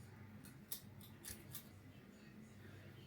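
A hairdresser's scissors make a few quick, faint snips through hair in a quiet room, with no voices.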